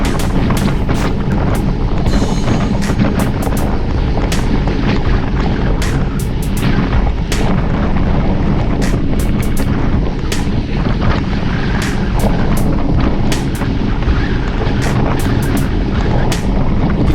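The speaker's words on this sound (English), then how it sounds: "Hear that wind." Loud, constant wind roar buffets the microphone throughout a fast group road bike ride, a dense broadband rush with repeated gusty thumps and crackles and no voices.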